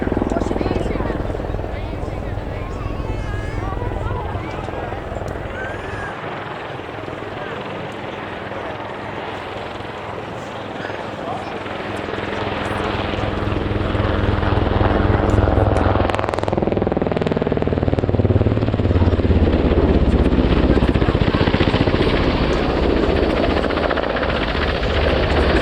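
Military helicopter flying a tight minimum-radius turn and reversal at the RIAT airshow, a loud continuous rotor and turbine roar that swells and peaks in the second half, with a commentator's voice talking over it.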